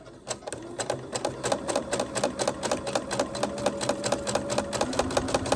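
Domestic sewing machine running a straight stitch in gentle curves through paper signatures of a soft cover junk journal, a steady fast rapid clatter of needle strokes, close and continuous.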